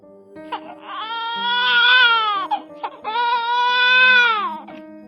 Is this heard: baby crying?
yes